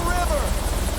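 A helicopter flies over a vast, remote wilderness estate in a film, its rotor thumping steadily and loudly throughout the short moment.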